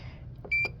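Control panel buttons on a smoker grill timer: a soft press click followed by a single short, bright electronic beep, close up over a low background hum.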